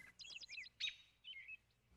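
An American robin sings alone in a few quick phrases of bright, warbling chirps that come in short bursts with brief pauses between them, faint and clear.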